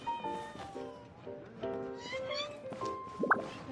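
A cat in a video game meows in short tonal calls under a busy game soundtrack, with a brief sharper cry near the end.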